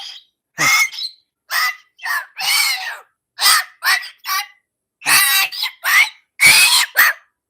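A pet bird named Beebop sings and squawks in a run of loud, close, separate bursts with short gaps between, each a harsh, bright call, heard alone with no talking.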